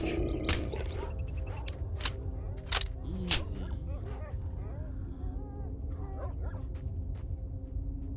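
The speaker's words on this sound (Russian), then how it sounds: "Чё, где собаки? Собаки." Dogs in the video game S.T.A.L.K.E.R. Shadow of Chernobyl give a few sharp barks and yips early on, then fainter whimpers under a low ambient rumble, with a voice speaking intermittently.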